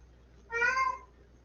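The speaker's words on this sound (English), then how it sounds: "Is that my cat?" One clear meow from a pet cat, near and fairly loud, rising and fading over about half a second against a quiet room.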